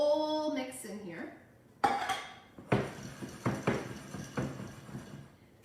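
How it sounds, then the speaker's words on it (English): Snack mix being dumped into a container, with a voice at the start followed by a series of clattering, rattling hits as pieces tumble in, close and fairly loud. "I'm just gonna go ahead and dump this whole mix in here"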